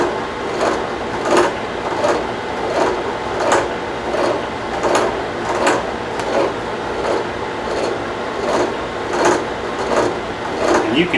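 A machine cuts a gear under flood coolant, chugging along in a steady rhythmic cycle of regular mechanical thumps and clatter over a constant hum, close and moderately loud.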